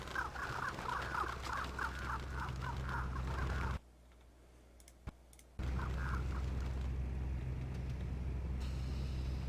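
Crows and ravens give a rapid run of harsh caws over steady outdoor noise, then go quiet during a brief near-silent gap, then call a few more times as the background returns.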